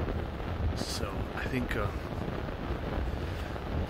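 Wind gusting against a cheap Amazon greenhouse cover outdoors, a broad steady rush of blustery air with the plastic flapping underneath, while someone talks briefly over it.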